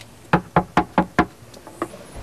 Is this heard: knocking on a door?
yes